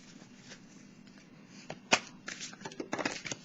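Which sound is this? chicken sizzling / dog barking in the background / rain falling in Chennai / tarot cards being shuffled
tarot cards being shuffled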